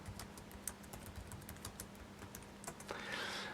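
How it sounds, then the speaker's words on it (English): Typing on a computer keyboard, quick irregular key clicks close by and fairly faint, steady throughout with a slight rise in background noise near the end. "I'll just type in something like UN Agenda 2030"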